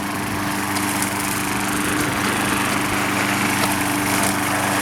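A Craftsman 6.75 hp walk-behind lawnmower runs steadily while mowing a suburban lawn, its small engine droning loud and close at an even pitch with a constant buzzing hum and no voices.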